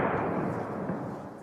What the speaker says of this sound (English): These are some of the loudest booms and interceptions that we've heard so far this morning